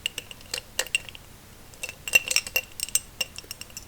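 Makeup brushes clink against a small glass jar in light, scattered taps and rattles, close and quiet with no talking.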